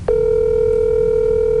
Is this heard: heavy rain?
no